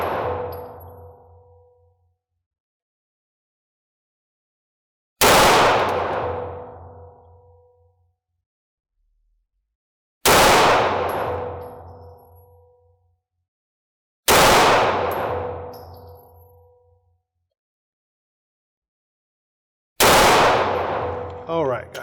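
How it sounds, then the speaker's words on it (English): Five single shots from a Taurus G3 9mm handgun at an outdoor range, each a sharp loud crack with ringing decay, spaced about five seconds apart. "5 rounds at 50 feet with the Taurus G3"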